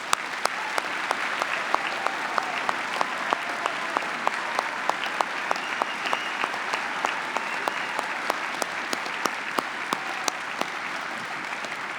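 An audience at a commencement ceremony applauds graduating honor students with sustained, fairly even clapping, a few sharp individual claps standing out over the steady patter for the whole stretch.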